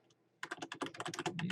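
Rapid close typing on a computer keyboard, a dense run of crisp key clicks that starts suddenly after a brief quiet pause.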